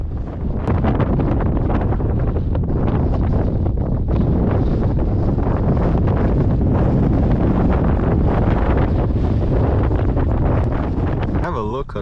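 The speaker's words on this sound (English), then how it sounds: "I'm pretty sure wind won't let up" Strong wind blows steadily near a waterfall, a loud, continuous roar buffeting the microphone for the whole stretch.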